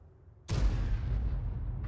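A single loud boom from a 105 mm leFH18B2 howitzer firing in a tank video game, sharp onset followed by a long rumbling tail.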